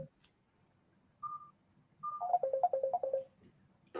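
A mobile phone ringtone plays close by: a single held tone, a pause, then a rapid run of melodic beeps, heard alone in a quiet room.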